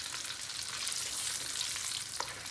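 Small one-inch cinnamon sticks, about eight pieces, fry in well-heated oil, giving a steady, close, dense sizzle with no talking.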